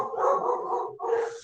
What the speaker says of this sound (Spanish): Que esté ladrando ahí el perro que no se calla